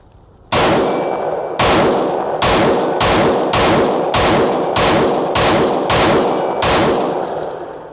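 A Tisas PX9 pistol fired in a rapid string of about ten loud, evenly spaced shots, each followed by a ringing clang of bullets striking steel targets, with no talking.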